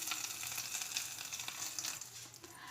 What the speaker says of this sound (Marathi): आता हे आपण तडका यावर टाकून घेऊया